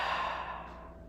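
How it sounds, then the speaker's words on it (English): One long, soft exhale through the mouth, a breathy sigh that trails off quietly in a calm yoga session. "Long breath out through your mouth."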